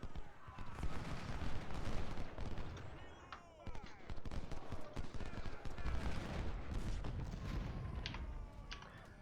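Sustained volleys of gunfire rattle through a Civil War era Union battle in a strategy game, dense overlapping shots and booms continuing throughout with a voice talking over the din.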